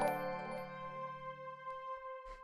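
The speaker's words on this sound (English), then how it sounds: "The next thing we have here is this first drone," A synthesizer drone holds a single C note for ambient music, a steady sustained tone with stacked harmonics that rings out evenly and alone, with no voices over it.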